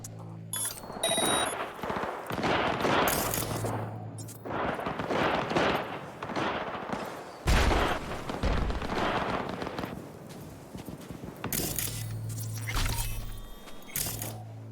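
Gunfire in the video game Cyberpunk 2077, with repeated shots and heavy blasts in dense bursts across a busy combat soundscape, loud and close, without clear talk over it.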